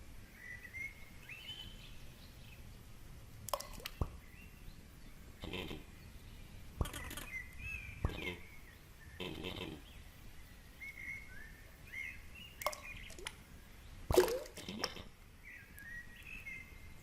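Calm nature ambience from the video game A Short Hike, scattered bird chirps and tweets over a soft outdoor bed with occasional faint knocks, gentle and distant throughout.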